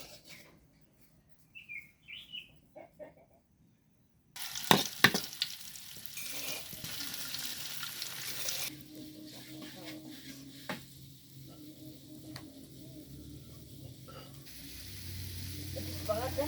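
Oil and water spinach frying in a home kitchen wok, a strong sizzle that starts abruptly after some quiet handling and runs on steadily with stirring, with birds chirping and a voice talking now and then.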